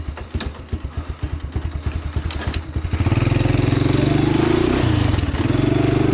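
A motorcycle putters in a slow, rhythmic idle before its engine swells into a loud, continuous drone as it pulls away and rides off, with some clattering underneath.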